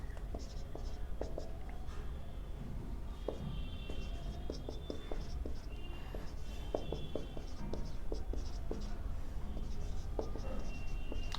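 Marker or chalk scratching out numbers on a board during a maths lesson, a run of short taps and strokes close by, steady and quiet with no talk over it.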